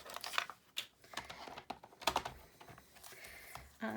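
A paper trimmer slices through vellum card, a series of close, crisp scraping and clicking strokes with light paper rustle, several bursts spaced unevenly in a quiet room.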